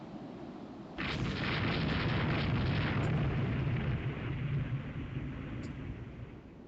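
Naval gunfire in the Rule the Waves 3 warship game, a German fleet battle set around 1890, erupts suddenly into a loud, sustained roar of overlapping cannon blasts and explosions that rumbles on and slowly eases.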